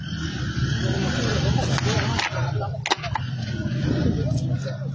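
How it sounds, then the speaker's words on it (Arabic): A car, al-Bani's, driving nearby with a steady engine roar and some tire noise, heard continuously for several seconds over background crowd sound. "هذه سيارة الباني"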